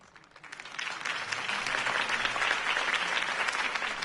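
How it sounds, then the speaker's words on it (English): Sustained applause from a large crowd in the Batman Telltale video game, swelling in over the first second and then holding steady and loud, with dense overlapping claps. "could have heard that applause"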